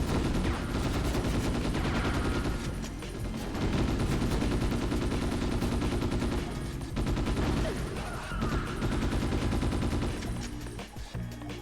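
Enemy gunfire in the Ghost in the Shell: Stand Alone Complex video game, dense sustained bursts of rapid automatic shots layered over each other, loud and close, with only brief lulls.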